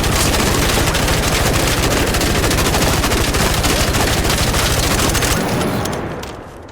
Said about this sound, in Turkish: orta mesafeden birine direkt çok hızlı bir şekilde mermileri boşaltıp